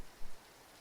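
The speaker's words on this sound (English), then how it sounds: "There is background rain." Steady background rain, a soft continuous hiss of drops with a brief swell near the start, faint and alone with no talking.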